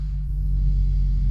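A wrecked BMW M2 that has sat unused runs at idle, a loud, close, steady low rumble with a strong bass hum and no talk over it.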